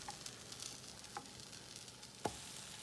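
French toast fries quietly in a pan, a soft, steady sizzle with a few faint clicks and one brief louder knock, no voices.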